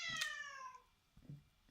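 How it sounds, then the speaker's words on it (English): A cat lets out a clear, drawn-out meow up close, then a shorter, fainter mew about a second later, against a quiet room. "Jesus, cats."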